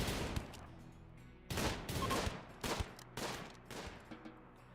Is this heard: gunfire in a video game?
yes